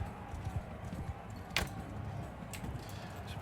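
Horse hooves clip-clopping in the medieval video game Realm of Thrones, muffled and irregular beneath dense game noise, with one sharp clank standing out near the middle.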